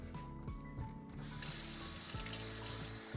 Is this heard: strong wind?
no